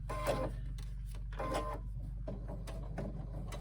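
A sewing machine stitches a handbag around a curve in short bursts of one or two stitches, pausing between runs as the fabric is lifted and turned, close and alone over a steady low motor hum.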